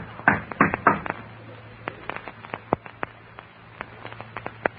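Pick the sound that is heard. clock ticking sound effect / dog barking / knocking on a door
knocking on a door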